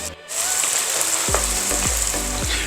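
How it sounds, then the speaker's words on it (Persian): Tomato paste sautéing in oil in a pan for macaroni, a loud close sizzle after a brief quiet start, with several rhythmic scrapes of a spoon stirring through it. "همین وسط تفتش بده تا بوی خامیش گرفته شه. یکم بهش روغن میزنم"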